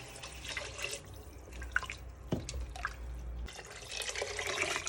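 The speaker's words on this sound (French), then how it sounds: "on ajoute 1 litre d'eau." Water poured into a pot of harira soup while it cooks: splashing, dripping and trickling liquid, close and moderately quiet, with a heavier pouring surge near the middle and the end.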